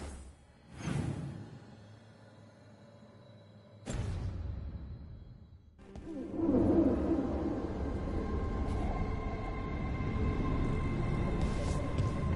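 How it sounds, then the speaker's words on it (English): Low owl hoots sound in Battlefield 6 amid a quiet game ambience, with a couple of sharp whooshing transitions and a sustained, fuller rumble of background sound in the second half. "Another owl."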